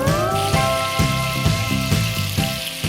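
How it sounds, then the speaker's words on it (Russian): Tomato halves sizzle in hot fat rendered from beef steaks, a steady bright crackling hiss that runs the whole time beneath rhythmic background music. "Вот на этом жире и обжарим."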